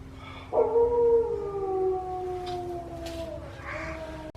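Wolves howl at an enclosure in Parc Omega, a loud drawn-out howl rising then sliding slowly downward, joined by a second overlapping howl, with faint background murmur and no clear speech.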